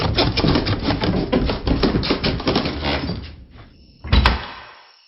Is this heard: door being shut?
yes